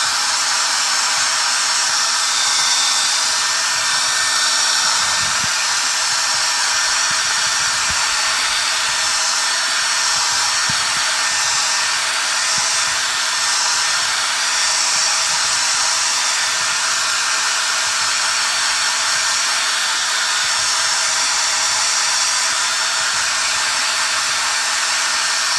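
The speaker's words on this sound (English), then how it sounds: "I'm gonna blow dry that" A blow dryer drying paint glaze on a painted piece runs in a steady, loud, continuous whoosh with a faint electric hum underneath, unbroken and without speech.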